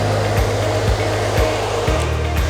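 A hair dryer blows steadily at close range to add volume to the front of the hair, giving a continuous broadband whoosh with a low motor hum and a few brief dips in airflow as it moves.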